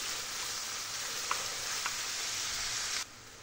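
Garlic and red and green peppers sizzle steadily in a pan, a loud even frying hiss with a couple of faint clinks, cutting down sharply near the end.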